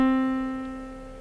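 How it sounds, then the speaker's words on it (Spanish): A single sustained C4 note rings out alone, steady and clear with rich overtones, slowly fading over about a second. "Para la voz femenina voy a tocar un C4."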